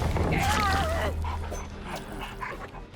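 The Hound Master's dog in Dead by Daylight gives a short whining yip and bark close up, over steady game ambience with a low hum, while someone talks.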